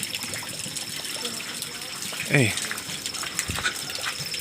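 Water overflowing from a tank, a steady gush and splash running throughout, close and moderately loud, with a brief voice calling out over it.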